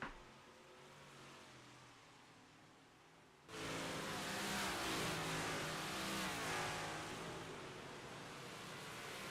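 Race cars roar around the Port Royal dirt track, a distant engine drone suddenly swelling into a loud, sustained wall of revving engines as the pack passes close by, holding steady for several seconds.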